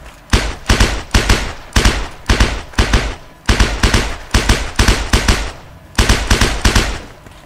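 Video game gunfire cracks out in loud rapid bursts, quick clusters of three or four shots repeating steadily with brief gaps between groups, close and dominant.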